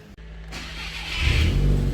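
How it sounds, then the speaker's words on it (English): A VW car with a DQ200 dual-clutch gearbox, its wheels off the ground, is started: a brief starter crank, then the engine catches and revs up loudly before settling into a rising, close idle. "Now we'll start the vehicle with the wheels off the ground"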